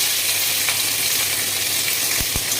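Capsicum sizzles steadily in hot oil in a pan, along with dried red chillies, bay leaf and nigella seeds, for a chilli paneer dish; a constant broadband hiss with a couple of faint knocks near the end.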